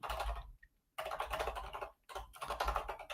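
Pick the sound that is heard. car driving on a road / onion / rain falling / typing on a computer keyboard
typing on a computer keyboard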